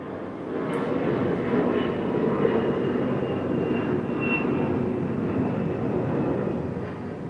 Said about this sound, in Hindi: प्लेन उड़ रही है